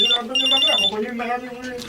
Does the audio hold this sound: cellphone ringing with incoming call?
yes